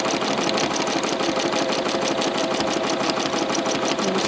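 Fast, even mechanical whirring and rhythmic needle pulsing from a sewing machine doing free-motion quilting of feathers, running continuously up close with no talk.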